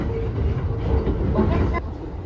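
A Narita Line train rumbles steadily from inside the carriage, with a low continuous rolling drone under a faint on-board announcement.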